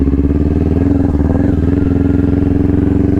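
A motorcycle engine pulls hard up to freeway speed, its steady loud drone rising in pitch and dropping briefly at each upshift before climbing again, with no one talking.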